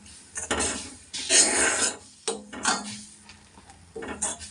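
Spoon scraping and clinking against a pan while stirring a coffee hair-dye mixture on a low gas flame, in several uneven close strokes with brief pauses between; no talking.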